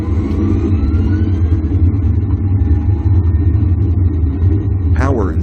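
Airliner engines of a Boeing 737 at takeoff power, Air Florida Flight 90 rolling down runway 01 with engine anti-ice set, a steady heavy low roar with a faint rising whine and a brief chirp near the end.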